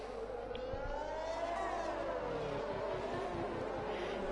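Racing cars lap the Yas Marina circuit in Abu Dhabi in a racing video game, engines whining and shifting pitch as they accelerate and sweep past, loud and continuous with no talk.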